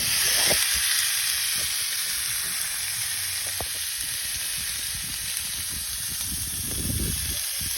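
A5 Wagyu beef steak sizzles steadily in a hot cast iron pan at about 300 degrees, a loud continuous frying hiss with faint crackles throughout and no talking.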